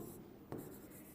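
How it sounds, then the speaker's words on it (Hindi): A brief, faint scratch of writing on a classroom board: one short stroke that rubs softly against a quiet room, with no voice. "यहाँ पे हम एक पॉइंट लिख देते हैं, नीचे लिखते हैं।"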